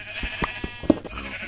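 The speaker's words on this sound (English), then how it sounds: "Oh, Jesus Christ, shut up, sheep." Sheep in Minecraft bleat repeatedly in short, nasal cries, fairly close and loud, over quiet game background with no talking.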